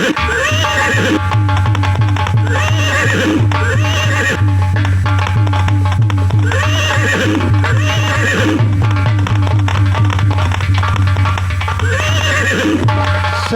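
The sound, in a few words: horse neighing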